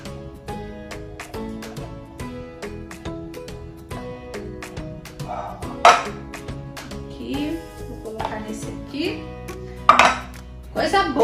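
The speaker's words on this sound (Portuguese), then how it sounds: "Quando a panela é boa, a gente consegue rapar tudinho, aproveitar tudinho." A spoon scraping and clinking inside a cooking pan, likely scraping out a sweet condensed-milk mixture, producing steady, close metallic scrapes and taps with a low hum beneath.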